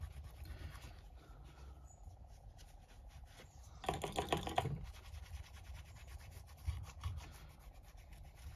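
A microfiber towel dampened with isopropanol rubs glue residue off an iPhone XS Max back plate: soft, close scrubbing strokes, with a louder burst of rubbing partway through and quieter scratchy wipes around it.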